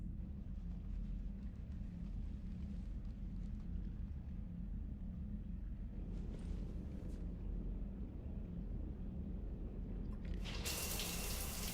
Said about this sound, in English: I figured you'd be more interested in a shower.